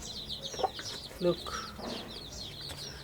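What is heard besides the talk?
mother hen clucking protectively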